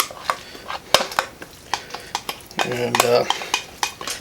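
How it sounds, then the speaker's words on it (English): Creamy peas and onions being scraped and dumped into a baking dish, with repeated clinks of a utensil against cookware and a wet, mushy slide, while a voice speaks briefly. "we're going to dump these into our baking dish"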